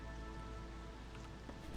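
Steady rain from the video game Against the Storm falls on surfaces, a dense, even patter with a few louder drops near the end, no voices.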